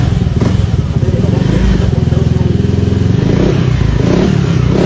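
A Yamaha Aerox scooter engine fitted with a Power Up Motorun unit, revving loudly up close in a steady, throbbing idle-to-rev pattern with a dense rattling exhaust pulse throughout.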